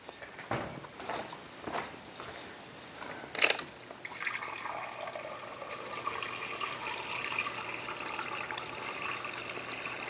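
Raspberry drink from an MRE ration is poured into a glass: a quick clink first, then a quiet, steady trickle of liquid that slowly tapers off, with no voices.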